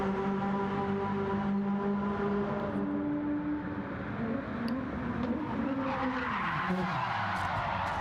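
A sim racing car's rear end slides out in a league race, tires skidding and squealing in long wavering tones over a steady engine drone that dips and rises, with no voices.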